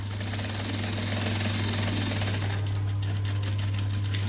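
A sewing machine runs steadily while stitching a bucket bag, giving a loud, continuous mechanical hum with a rapid needle rhythm from start to finish.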